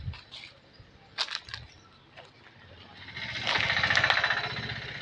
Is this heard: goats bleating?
yes